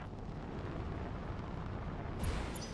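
A mech in the Battletech video game lifts off on jump jets, a steady loud roaring rush of thrust with a low rumble, swelling slightly near the end as a brighter hiss cuts in.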